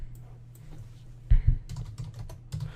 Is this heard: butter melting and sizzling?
no